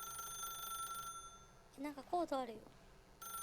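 A telephone rings in The Stanley Parable video game, a steady electronic bell trilling at first, pausing while someone speaks briefly, then starting up again.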